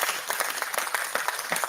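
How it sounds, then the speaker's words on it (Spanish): Scattered clapping, moderately loud and fairly close, comes in an uneven rhythm of sharp claps throughout a short stretch. "No sé quién está aplaudiendo."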